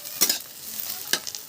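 Sukhdi frying in refined oil in a hot kadai, with soft sizzling and two sharp stirring scrapes against the pan, close and alone.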